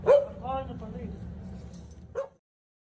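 A dog barking and yipping, a drawn-out bark with a whiny edge followed by a shorter bark, heard at moderate volume alongside a voice.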